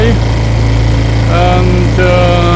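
A small sailboat's engine pushes into the wind on the Seine, running close and loud with a steady low throbbing drone the whole time while someone talks over it.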